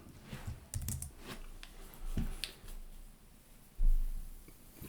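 A computer keyboard clatters with quick, uneven key presses while a search term is typed, close and fairly quiet, with a few heavier key thumps.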